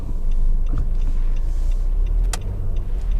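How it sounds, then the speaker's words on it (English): Road traffic rolling past a stopped car on Coronado Island, San Diego, a steady low rumble with one brief higher swish as a vehicle goes by. "I'll let this traffic clear by, then we'll hang a left here."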